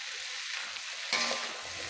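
Chop suey vegetables with Baguio beans and chickpeas stir-fried in a pan, a steady low sizzle with a brief louder scrape and stir partway through, no voices.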